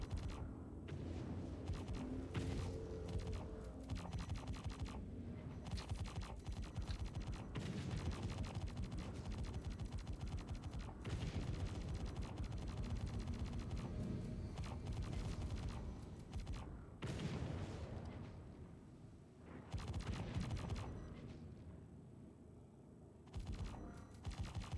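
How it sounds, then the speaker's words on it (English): Weapons fire in Star Citizen in VR, rapid sustained bursts of gunshots rattling almost continuously over a rumbling background, with occasional louder cracks. "Dumping rounds into it."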